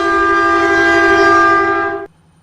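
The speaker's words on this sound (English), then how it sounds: "I hear that train is gonna be coming around for here" A Metrolink train in the Roblox game RO-Scale sounds a loud, sustained multi-tone horn for about two seconds, then cuts off abruptly, leaving only faint background hum; no voices.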